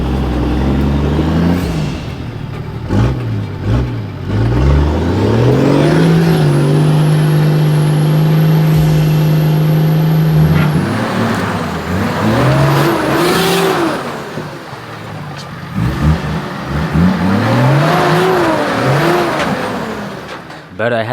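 A 4WD climbs a steep rocky hill in first gear low with the locker engaged, its engine revving hard and surging in repeated pulls on the wild Watagan Mountains track. The labouring engine stays loud and close, and voices can be heard over it.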